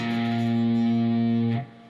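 A single sustained muted strum on an electric guitar, struck from the A string downward with the lower strings muffled, as part of a blues shuffle; the chord rings steadily and cuts off abruptly near the end.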